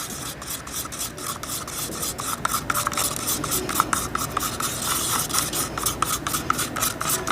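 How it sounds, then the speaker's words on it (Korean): A stick stirs architectural paint as a small amount of red is mixed in, making steady rhythmic rasping and scraping strokes against the container, close and fairly loud, without speech. "잘 저어야 됩니다."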